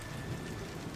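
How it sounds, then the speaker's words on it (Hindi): Heavy rain pours steadily onto the roof of a mud house in a cartoon, a dense, unbroken hiss with a low rumbling undertone, faint and continuous with no voices. "तभी बहुत जोरों से बारिश शुरू हो जाती है"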